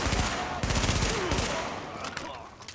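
Rapid automatic gunfire in The Division, a PvE shooter, with bursts of loud close shots in quick succession, easing toward the end.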